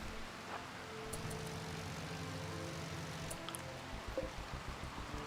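Vehicle engines starting up in the video game RimWorld, heard as a steady low droning rumble with faint scattered clicks. The sound plays alone, without speech.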